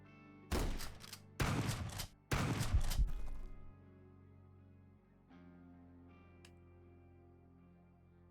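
Quasimorph video game gunfire: three loud, close bursts of shots in quick succession, then a quieter low tonal hum with a faint click.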